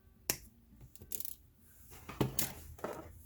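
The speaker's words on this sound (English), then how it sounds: "I'm going to snip." Wire cutters snipping craft wire for a wire and gear pendant, a few sharp dry clicks spread over a few seconds in a quiet room, with no talking.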